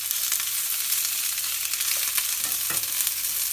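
Onions sizzle steadily in a hot pan, a continuous bright frying hiss broken by a few soft stirring scrapes near the end.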